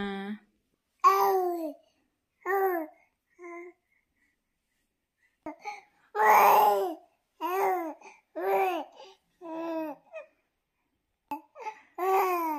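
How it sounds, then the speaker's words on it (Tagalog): An infant babbles loudly in short bursts of squealing, cooing syllables and little laughs, separated by brief silences, close to the listener. "itong anak ko is maingay na siya"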